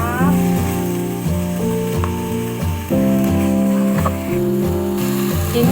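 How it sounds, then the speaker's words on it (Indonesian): Chicken for opor ayam being stirred in spices in a pan: loud sizzling and frying with scraping stir strokes throughout, over a steady mechanical hum, and no talking. "kita aduk dulu biar bumbunya meresap"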